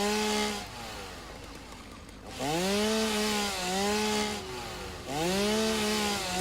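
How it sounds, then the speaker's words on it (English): Chainsaw in the video game Satisfactory cutting trees, a loud buzzing engine whine that revs up and down in repeated rising sweeps, with a brief lower idle in between. "I hate how the chainsaw works when your inventory is full"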